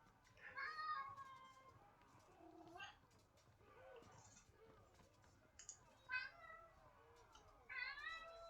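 Hungry, irate house cats meowing insistently, several separate drawn-out cries spaced a second or two apart, faint and somewhat distant in a quiet room.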